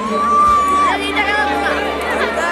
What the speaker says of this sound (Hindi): हाँ भीड़ है